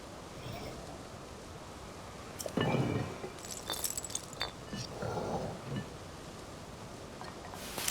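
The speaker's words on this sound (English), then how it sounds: "the little clinking sounds that the robots make when they move around does sound like ceramic clinking together" Robots in Tears of the Kingdom give off scattered, faint ceramic-like clinks and rattles as they move, several light clusters over a quiet game background.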